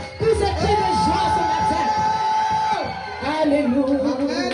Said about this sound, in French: Si tu penses que le salut est venu chez toi, pousse des cris de joie